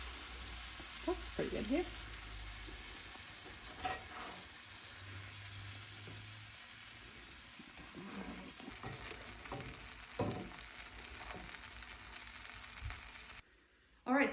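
Food cooks on a grill with a steady, low sizzle running throughout, under occasional brief talk and a few small clinks and knocks.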